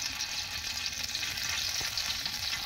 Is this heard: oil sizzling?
yes